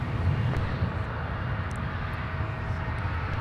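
A Delta airliner flies past at Minneapolis–St. Paul airport, its jet engines a steady, broad roar that holds at moderate loudness, with no voices.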